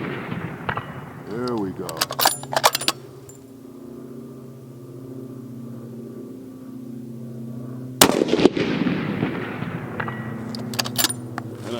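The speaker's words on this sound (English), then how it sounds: "So, that was 6 rounds. That was 6 rounds at 500 yards." Rifle shots fired at a distant target 500 yards away outdoors, several sharp cracks in short clusters separated by a long quiet stretch of steady background hum, with a brief spoken word near the start.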